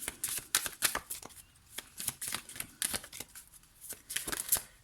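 Oracle cards are shuffled in quick, crisp riffling bursts that repeat through the whole stretch, close and fairly loud, with no voice over them.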